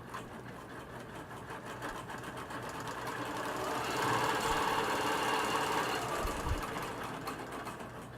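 Bernina longarm quilting machine stitching in the ditch, a steady close mechanical hum and rapid stitching rhythm that runs throughout and swells slightly louder midway as the speed increases.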